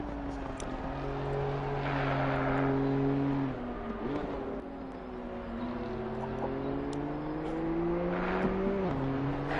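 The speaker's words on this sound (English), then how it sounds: "So there was a lot of cars coming across the line and rather rapid" BMW M2 race cars at Paul Ricard crossing the line in quick succession: several engines howl past close by, their pitches rising and falling as gears change and cars pass, a continuous loud racing drone.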